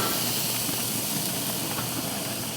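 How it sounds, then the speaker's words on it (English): Thin pork chops sear on a 600-degree infrared grill, giving a steady loud sizzling hiss that continues evenly throughout without pauses or talk. "All right, infrared grill, 600 degrees, we're going on."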